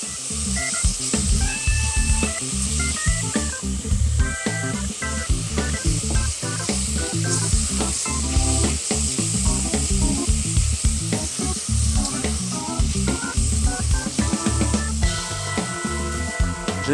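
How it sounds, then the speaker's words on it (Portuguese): Onion and tomato sautéing together in a pan give a steady, lively sizzle and crackle, with bright hiss and occasional stirring clatter throughout and no talking. "É só a gente dar uma refogada junto com a cebola"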